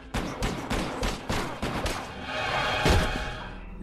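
A rapid series of loud, close gunshots in a horror film scene as a detective shoots a man who is fighting back, with heavy booming thuds under a dense soundtrack.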